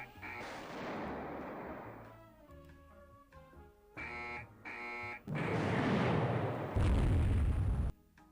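Naval gun salvos in the warship strategy game Rule The Waves 3: repeated heavy booming bursts, several separate blasts with short gaps, then a sustained loud rumbling volley near the end.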